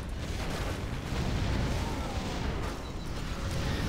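A naval battery opens fire in Warcraft 3 during a large 8v8 battle, producing a dense, continuous roar of booming cannon blasts and explosions layered together with no clear gaps.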